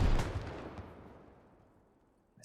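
An RPG HEAT round strikes a Humvee in the middle of an AK firefight, one heavy, close blast that fades out over a couple of seconds.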